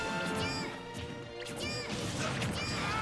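Up smash attacks land in a Super Smash Bros. match, with loud crashing, whacking hits and swishes repeating over busy game music and sound effects, with a little talk mixed in.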